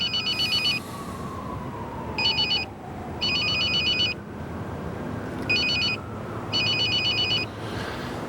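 A telephone rings in repeated electronic bursts, loud and close, with pauses between the rings over a quiet background hum.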